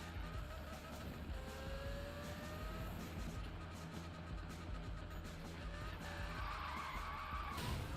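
Continuous tyre skid and drifting car engine in the 2015 Need for Speed racing game, a steady loud screech with engine drone running the whole way through, no voices.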